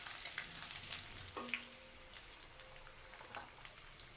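Dry red chillies, crushed garlic and onions fry in oil for a drumstick sambar, a faint, even sizzle with light crackles and a few soft stirring clinks close by, no voices.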